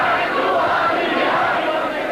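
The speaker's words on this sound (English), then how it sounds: ""God is great," answered the crowd." Thousands of Muslims at a rally in Jordan chant together in a dense, continuous roar of massed voices, loud and unbroken throughout.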